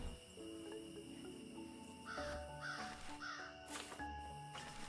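Crows cawing in the video game Magical Delicacy, several harsh calls repeating through the middle of the clip over steady game ambience and background music.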